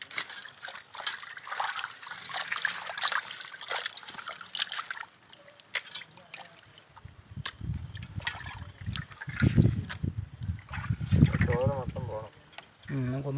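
Water trickles and splashes steadily while quail are washed for a clay-pot curry cooked outdoors in a village paddy setting, with a person talking over it.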